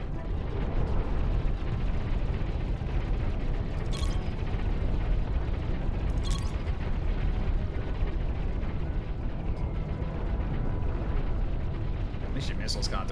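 Point defense guns firing in Cosmoteer, a dense, constant mechanical rattle of rapid shots with a few sharper bursts now and then, packed into a loud, busy battle mix.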